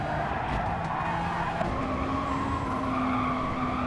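A Honda Civic Type R touring car skids off the track in a BTCC racing sim, with sustained tire squeal and a whining engine drone throughout, loud and continuous.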